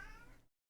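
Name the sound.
cat meowing in The Sims 2 video game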